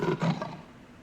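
A tiger-like monster beast in the Breath of Fire 3 video game roars, a short, close, growling burst that quickly fades.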